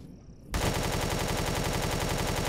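An enemy turret in Empyrion opens fire on the player, starting abruptly after a brief quiet moment and becoming a loud, rapid, continuous machine-gun burst that holds steady to the end.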